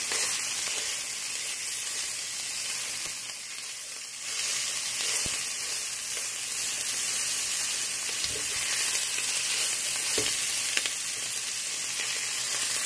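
Meat browning in a pan on high heat gives a steady, loud sizzle and hiss throughout, with occasional soft scrapes and taps from stirring.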